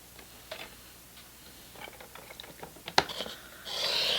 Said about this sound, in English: come in with your trimmer